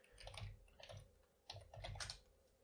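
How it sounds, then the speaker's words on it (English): A root password typed on a computer keyboard, with two quick clusters of soft key clicks separated by a short pause, quiet and close. "And then we have to type in our root password we just set up on Linode a moment ago."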